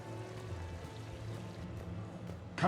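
Steady, soft rushing of a waterfall on the Citadel in Mass Effect 3, a continuous low wash of falling water that holds evenly throughout, with a brief louder splash near the end.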